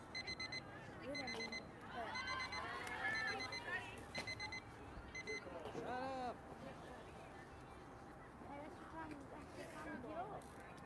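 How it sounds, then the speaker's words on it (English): At an 18U baseball game, an umpire's timer beeps in repeated short electronic chirps that fade in and out. It stays faint under crowd chatter and people talking nearby. "That's going to be the timer going off for the umpire."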